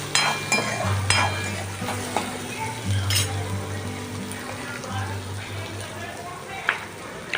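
Dal frying in hot oil, a steady near sizzle with occasional stirring clinks, under a continuous low hum and someone talking.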